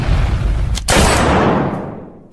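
Loud bursts of gunfire from a zombie video game, a dense rapid volley with a sharp blast near the middle, no talking.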